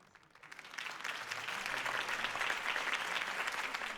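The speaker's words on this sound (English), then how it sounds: "If only Mr. Wayne, my campaign's largest backer, could have heard that applause" Crowd applause follows a mayoral campaign speech in Batman: The Telltale Series, a dense clapping that swells in after a quiet start and holds steady, moderately loud, with no voices over it.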